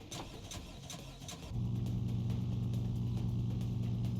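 A car engine started for a flip project: a short cranking whir, then the engine catches and settles into a steady, loud idle hum close by.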